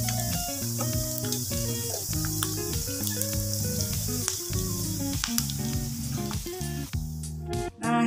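Beef dendeng fries briefly in hot oil, giving a bright, steady sizzle that is partly masked by loud background music.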